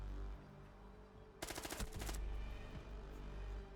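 Video game gunfire shooting through a wall, heard as a sudden burst of rapid automatic shots lasting under a second, loud and sharp against a low background hum.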